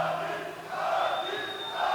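A crowd boos at the UFC 229 pre-fight press conference for Khabib Nurmagomedov vs. Conor McGregor. The noise is a loud, sustained roar with a faint steady tone running through it.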